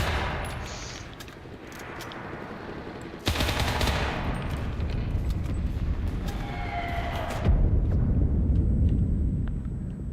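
A submachine gun fires in rapid bursts in the World War II shooter Enlisted, with loud rattling automatic fire amid battlefield noise and a sharp jump in intensity partway through.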